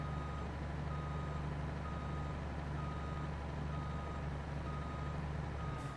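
A truck in Farming Simulator 22 reverses a trailer toward a machine shed, its reversing beeper repeating steadily and evenly over a constant low engine drone, with no talk.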